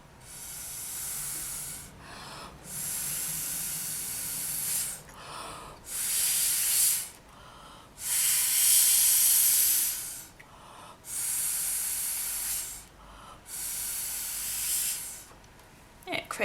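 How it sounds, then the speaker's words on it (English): Breathy bursts of air blown through a straw to spread pinata ink, a series of loud hissing puffs of a few seconds each separated by short pauses, close to the microphone. "grab your straw and blow"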